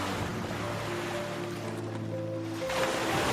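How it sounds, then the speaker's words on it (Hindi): Rushing water surges in a steady, full wash with a faint low tonal hum underneath, moderately quiet and continuous, swelling slightly toward the end. "पानी का सैलाब इतना तेज था"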